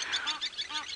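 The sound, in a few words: geese honking while chasing away a martial eagle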